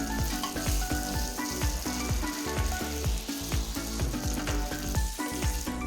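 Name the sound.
mixing steamed flattened rice mixture in pan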